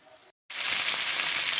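Beef tenderloin fries in a pan with a steady, loud, close sizzle after a brief silent gap, with no voices over it.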